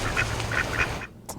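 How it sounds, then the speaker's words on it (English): Ducks at the Henderson Bird Viewing Preserve near Las Vegas give a few quick, nasal quacks in a loose rhythm over steady outdoor background noise, ending in a short quieter gap and one last call. "So many beautiful birds."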